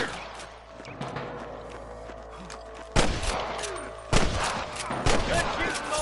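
Gunfire in a Red Dead Redemption shootout with snipers, sharp loud shots striking near 3 and 4 seconds over a steady game ambience with scattered smaller pops and voices.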